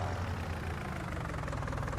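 A small old Fiat tractor engine in a farming video game runs steadily, a loud continuous low rumble with a rough, throbbing idle character and no breaks.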